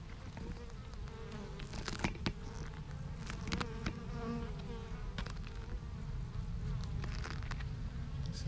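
Small beehive entrance busy with foraging bees bringing in pollen, giving a dense, steady buzzing hum with individual bees zipping close past now and then, faint overall and without voices.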